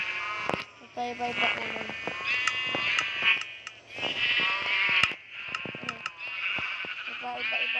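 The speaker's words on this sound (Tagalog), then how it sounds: "Tingnan niyo po itong tupa ko." Sheep bleating in Minecraft, repeated nasal cartoonish bleats from several animals overlapping close by, with a person talking over them.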